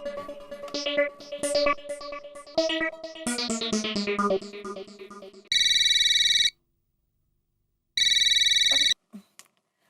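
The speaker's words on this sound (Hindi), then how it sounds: "बबीता जी, आपको कैसे पता चला मैंने फोन किया है?" A melodic ringtone plays as an outgoing call connects, followed by two loud, long ringback tones separated by a silent gap, then a brief click at the end; a TV sitcom setting with no talk over it.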